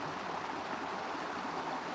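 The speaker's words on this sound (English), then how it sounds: "right there is a little waterfall" A small mountain waterfall gives a soft, steady rush of falling water, heard at a distance and fairly faint, with no voices over it.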